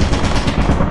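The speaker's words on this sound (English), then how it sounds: "I hear a turret." A turret in the video game Lethal Company fires a rapid, loud burst of machine-gun rounds, dense continuous rattling up close with no talk.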